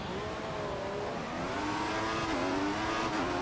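The engine of a Formula One car in the F1 2014 racing game at the Hungarian Grand Prix, a loud steady high-pitched whine climbing in pitch through the gears on a straight, with no talking over it.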